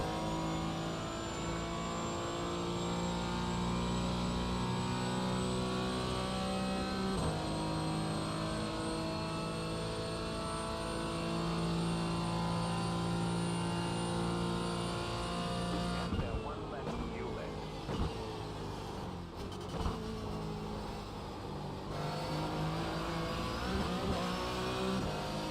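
A Porsche GT4 race car engine in a racing video game at Daytona, a sustained tonal drone with steady revs and a few brief shifts, continuing throughout.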